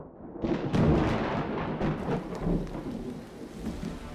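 Heavy pouring rain with rolling thunder, the kind of downpour that soaked the Fuji circuit in Japan for the final race; a loud, continuous roar of rain with deep rumbles swelling near the start, no voices.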